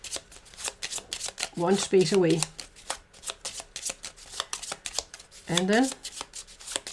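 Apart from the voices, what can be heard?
shuffling cards for the Cthulhu Death May Die board game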